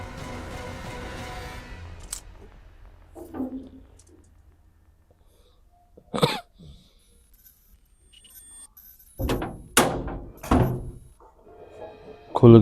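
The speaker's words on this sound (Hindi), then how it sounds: "खुल गया दरवाजा।" A door opens with a few scattered thunks and clicks, alone and fairly close, separated by stretches of near silence, ending in louder knocks.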